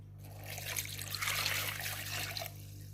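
Water pours into a Compact Cook Pro M6 electric pressure cooker holding chicken, white wine and bay leaves for a blanquette, a steady close trickle and splash lasting a couple of seconds over a low electrical hum.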